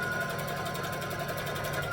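Close, continuous whir of a sewing machine topstitching fabric, steady and even throughout with no voices.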